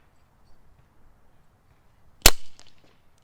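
A single Brocock Concept Lite airgun shot, a sharp sudden crack followed by a brief metallic ring and faint pellet impact, alone against near silence.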